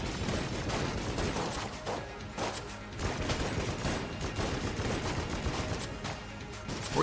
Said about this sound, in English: I just want to keep shooting at the boss.